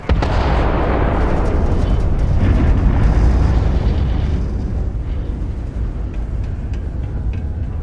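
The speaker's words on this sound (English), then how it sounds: "Particle detonation concluded." A particle detonation explosion in Starfield, a loud sustained roaring blast that rumbles heavily at first and then slowly fades with crackling debris.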